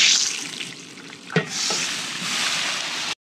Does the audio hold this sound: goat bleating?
no